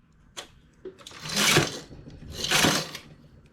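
On a knitting machine, a stitch is increased with the transfer tool. A few light clicks come first, then two swelling mechanical swishes as the carriage slides across the needle bed, each about half a second long and close by.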